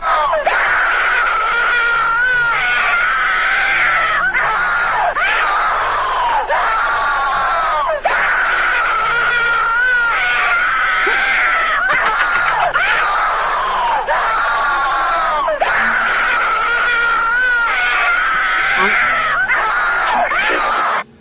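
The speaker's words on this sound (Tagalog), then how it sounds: "Ang ingay ng sigaw, putek!" A woman screams loudly and repeatedly in long, high, piercing bursts with brief gaps between them, close and sustained throughout.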